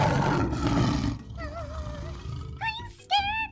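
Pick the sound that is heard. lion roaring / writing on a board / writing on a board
lion roaring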